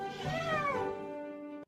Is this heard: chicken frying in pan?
no